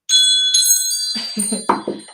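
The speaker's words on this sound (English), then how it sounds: "let's call in spirit with a little bit of wind chime time" Wind chimes ringing close and clear, several bright metallic tones struck and left to shimmer, followed by a cluster of quicker, lower-pitched strikes near the end, with no voices.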